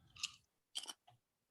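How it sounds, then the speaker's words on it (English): Someone chews a Bugles corn snack in three quick crunchy bursts separated by short pauses, close and fairly quiet with no talking. "Are you chewing on bugles?"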